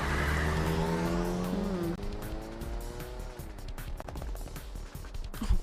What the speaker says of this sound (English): The taxi lurched into motion, the engine quickly revving up to speed.